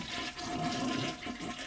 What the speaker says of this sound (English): Then remove the tank's lid and flush the toilet.